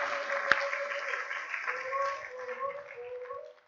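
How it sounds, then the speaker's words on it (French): A church congregation applauds and cheers for the glory of God during a Bible-week sermon, a steady wash of clapping mixed with raised voices and shouts that slowly thins out. "Est-ce qu'on peut dire un amen de joie et acclamer pour la gloire de Dieu?"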